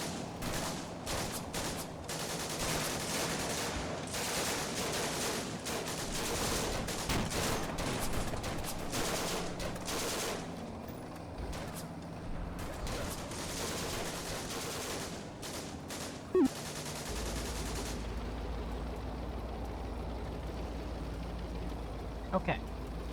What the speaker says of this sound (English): Bren carrier's up and starting to shoot. That one's shooting.